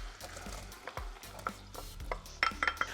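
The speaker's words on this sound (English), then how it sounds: "we want to start to melt that. And we're going to go in with a chopped onion" Roughly chopped onion is stirred into melted butter in a pan, with a quiet sizzle under scattered scraping and clinking of a utensil against the pan that grows sharper toward the end.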